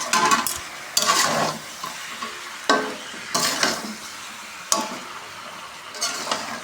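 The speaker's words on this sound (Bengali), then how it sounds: "মাংস এখন ভালো করে কষাতে থাকতে হবে" Meat stirred and fried in a pan, a steady sizzle broken by repeated scraping spatula strokes and clinks against the pan at irregular intervals, close and fairly loud.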